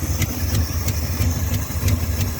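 A 1978 Step Side truck engine running after a fuel pump swap, with timing slightly off: steady low idle rumble with a regular periodic pulse about three times a second, close and unaccompanied by speech.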